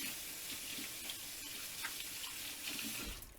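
Steady tap water runs into a kitchen sink while hands are rinsed after handling a raw pork roast for the crock pot, a continuous close splashing hiss with no talking.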